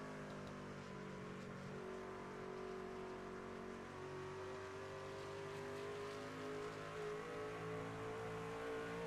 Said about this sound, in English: but he did light those tires up